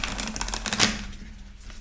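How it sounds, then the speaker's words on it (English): A new tarot deck with sticky card stock is shuffled by hand, giving a rapid, close riffling patter that thins out and fades after about a second. "this is really hard for me to shuffle, but I'm going to do my best."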